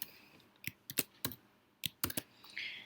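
Several sharp, separate clicks of keys being typed on a computer keyboard, in bursts with short pauses, fairly close in a quiet room with no talk.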